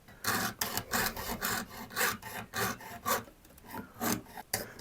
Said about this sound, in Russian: Материал мягкий и непривычно по нему так очень быстро идет пилка.